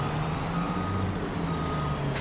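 A truck in Farming Simulator 22 sounds a steady series of reversing beeps, loud and close, over the low rumble of a diesel engine, with no one talking.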